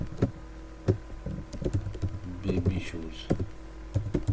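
Keys clack on a computer keyboard as a product name is typed into an e-commerce website form. Irregular close taps run throughout, with a voice speaking over them.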